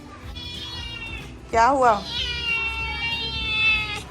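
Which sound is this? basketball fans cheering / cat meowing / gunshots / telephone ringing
cat meowing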